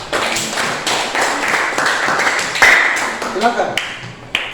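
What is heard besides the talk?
audience applause for group 5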